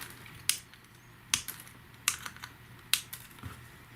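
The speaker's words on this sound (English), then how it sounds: "We're just going to cut off these excess leads." Cheap snips clip off the excess component leads on a five-dollar eBay Tesla coil kit board: four or five sharp, close, bright snaps spaced irregularly, with quiet rustling between them and no talk.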